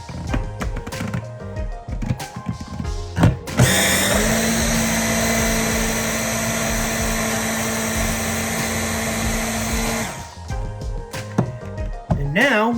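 Cooked eggs for breakfast burritos being shredded in an electric appliance: a loud, steady motor whir runs for about six seconds, bracketed by clatter and handling noises before and after.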